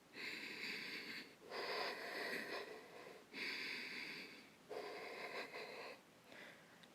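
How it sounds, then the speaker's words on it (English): During a held yoga pose, slow deep breaths cycle steadily, each long airy inhale or exhale swelling and fading, about five in all, soft and close with no talk. "Deep breathing."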